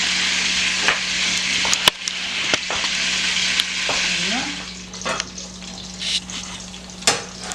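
Sweet plantain frying in hot oil for pressed fried plantain (banan peze) gives a steady sizzle, broken by sharp clacks and scrapes as pieces are turned, while people chat nearby.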